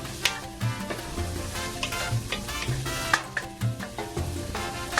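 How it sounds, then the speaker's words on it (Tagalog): Onions, garlic and ginger sauté in a hot pan for chicken tinola, a steady crackling sizzle with light scraping and stirring clatters throughout, close and fairly loud. "habang niluluto natin yung onions, garlic, and ginger"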